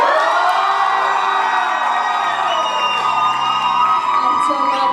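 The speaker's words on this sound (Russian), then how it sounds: "сейчас мы узнаем, кто лучший по вашим овациям и аплодисментам" A student pageant audience cheers and whoops for a contestant, a loud, sustained crowd roar with high shouts from many voices, unbroken for several seconds.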